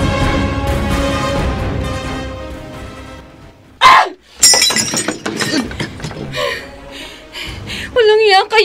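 Glass or some object shatters in an upstairs room of a house, a sharp crash breaking out of a dramatic scene, followed by clinking debris, with voices and music around it.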